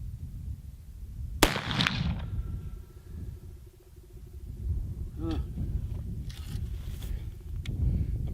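A rifle shot fired at target practice at roughly 100 to 120 yards, one sharp close crack followed by outdoor rustling and a faint ringing tail.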